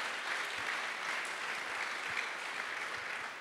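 A church congregation claps for the Lord during a bilingual French-English sermon, with steady, dense applause filling the room at an even level throughout.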